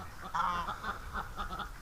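A goose honks a few times close by, short nasal calls in a quick uneven series, fairly quiet against low background noise.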